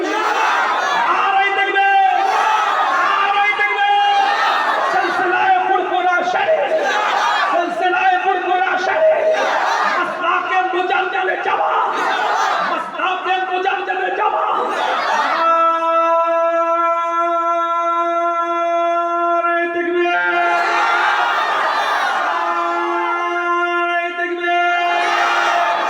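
A large crowd at a Muharram religious gathering chanting the Nara-e-Takbir call in unison, loud, sustained, and rhythmic, with repeated surging voices and a long held chorus near the middle before the chant resumes.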